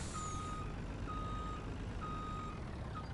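Truck reversing in Farming Simulator 19: steady, evenly spaced backup beeps repeating about once a second over a constant engine rumble and broad background noise.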